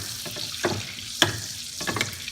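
Butter melting in a pan for frying mackerel, sizzling softly with a few sharper spatters and stirring scrapes at irregular intervals, close and moderately loud.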